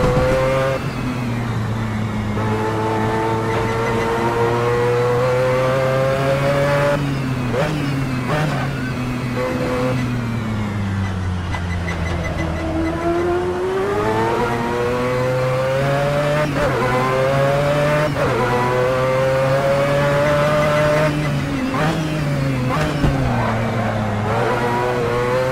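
A Mazda 787B race car engine revving hard and shifting through gears in a racing game, a loud continuous rotary howl rising and dropping in pitch for the whole stretch, with no talking.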